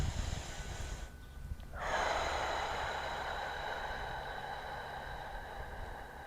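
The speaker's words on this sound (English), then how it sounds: "You exhale." A long, forceful breath out during a yoga stretch, starting with a brief rush, pausing, then a sustained airy exhale that slowly fades, close to the microphone with no talking.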